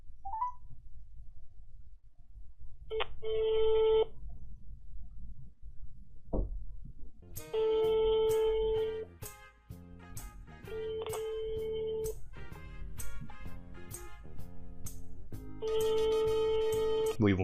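A phone call to Toei Animation rings out in repeated short bursts of a bright electronic ringing tone, separated by brief pauses, over faint room noise.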